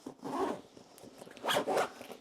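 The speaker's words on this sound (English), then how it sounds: "So I'll just zip it up." A bag is zipped shut around a Bellroy desk caddy packed inside, two quick close zipper pulls separated by a short pause, the second burst rasping in a pair of strokes.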